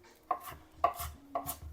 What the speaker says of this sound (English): Okay, that's chopped, rough chop.